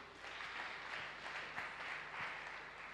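Congregation applauding during a church worship service, a steady broad wash of clapping from many hands that holds at an even level throughout, with no voices standing out.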